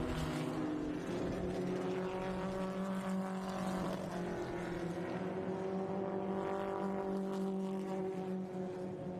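A Mighty Minis race car on a speedway spins out on the back straightaway, its engine droning steadily with wavering pitch amid distant crowd and track ambience, continuous and moderately loud.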